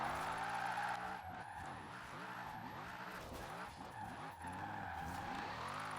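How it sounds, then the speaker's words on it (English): Tires squeal and skid as a car drifts in Forza Horizon 4, the engine note rising and falling in repeated sweeps over several seconds, steady and fairly quiet with no talking. "look at this drift"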